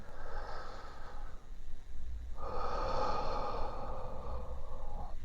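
Slow, deliberate breathing during a guided breathing exercise on a KOSPET Tank M4 smartwatch: one close, airy inhale or exhale, a brief pause, then a longer, stronger breath, with no talking.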